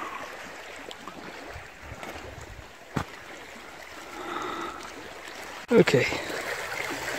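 Water flows and trickles over rocks just below a camera held a few inches above the surface. It makes a steady, soft rushing sound, and a voice speaks briefly near a closer splash.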